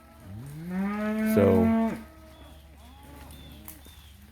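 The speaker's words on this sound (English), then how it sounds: "There's a cow. She's gathering up her baby. Letting out a holler." On a summer cow-and-calf cattle drive, a cow calling for her calf lets out one long, loud moo that swells and then falls away. Quiet outdoor ambience follows, with faint bird calls.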